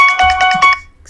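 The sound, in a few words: phone ringtone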